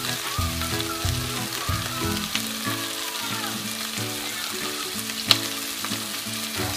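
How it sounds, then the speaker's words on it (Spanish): Anchovy, garlic, capers and tomato fry in a pan for a vegan-style broccoli pasta, a constant close sizzle with rhythmic stirring scrapes and one sharp clink of a utensil. "que están cocinando junto con la anchoa el ajo, le vamos a agregar las alcaparras y el tomate"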